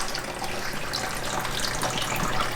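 Water splashing and gushing steadily as a clown knifefish is released into a 125 gallon aquarium, a continuous close broadband wash of pouring water with no talk.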